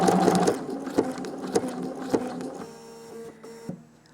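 A sewing machine stitches over a cord in machine couching, running in rapid mechanical bursts with sharp periodic clunks, close and steady, then slowing to a few separate stitches near the end.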